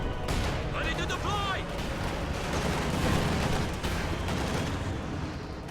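Dense, continuous battlefield gunfire and explosions from a World War II strategy game, with an MG-34 machine gun firing among artillery and other weapons, loud and layered throughout, and a voice speaking over the din.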